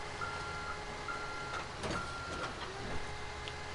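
Reversing beeps from a truck in GTA 5, a steady series of evenly spaced electronic tones repeating about every half second over a low rumbling backdrop of engine and street noise, moderately distant.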